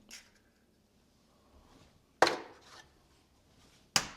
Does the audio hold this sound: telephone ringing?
no